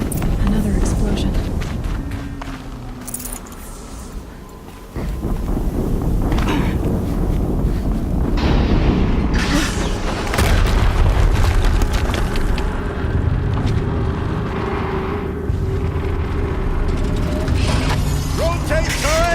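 Explosions and booming blasts from the video game Horizon Zero Dawn, with a loud, dense rumble, mechanical clatter and a brief dip near five seconds before the din resumes; voices are heard under the action.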